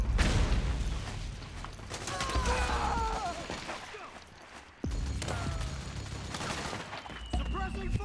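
Battlefield gunfire in Metal Gear Solid 4 on mansion grounds, with dense bursts of shots, mechanical clanks and zipping ricochets close by, while soldiers shout over the fighting.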